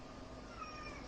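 A cat gives a faint, drawn-out meow with a gliding pitch over low background noise, with no one talking.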